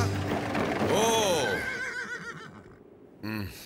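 Cartoon horses whinny loudly in a rising, wavering call while hauling heavy wagons down a slope, followed by a second short neigh near the end, with music and effects around them.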